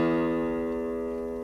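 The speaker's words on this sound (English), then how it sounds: "Your low E should sound like this," Low E string of a guitar plucked in tune, a single sustained, harmonically rich low note ringing steadily and slowly fading, close and clear with no talking.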